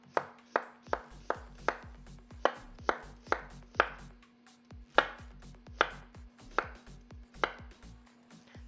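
Knife chopping a whole onion for homemade burger sauce on a cutting board, about fifteen sharp, evenly paced thuds, each with a short ringing tail, close and clear with no talking.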